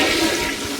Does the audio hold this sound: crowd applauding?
no